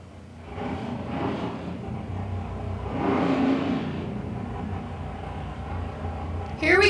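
A nostalgia drag racing car accelerates down the track at fuel and gas finals qualifying, a mid-pitched engine roar that rises and fades with distance and ends in a sharp, loud burst.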